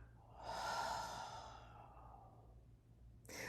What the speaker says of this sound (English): Let's take a deep breath together